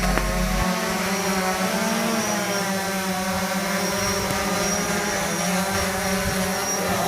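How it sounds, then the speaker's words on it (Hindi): Police camera drone flying overhead on lockdown surveillance in Multanpura, Mandsaur: a steady, loud propeller buzz with sustained tonal whine that holds through the whole stretch, no voices. "ड्रोन कैमरे के द्वारा निगरानी की जा रही है।"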